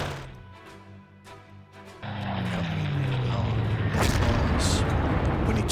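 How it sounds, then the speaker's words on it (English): Naval gunfire from the cruiser Blucher in a war strategy game: booming blasts and a rushing roar that swell and grow louder, with a heavy, sustained rumble filling the second half. "firing here with the Blucher, hit with the auxiliary."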